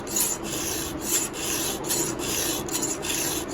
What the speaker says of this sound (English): just let the file do the work